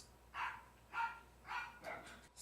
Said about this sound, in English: does every fucking dog want to bark right now?